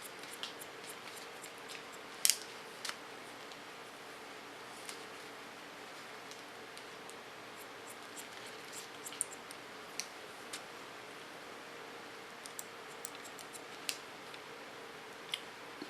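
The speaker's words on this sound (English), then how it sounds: "With a point cut technique, I correct the contour line." Scissors snip with a point-cut technique through strong hair along the contour line near the ears, a quiet scattering of small irregular clicks and crisp cuts over a faint hiss, spaced unevenly across the stretch.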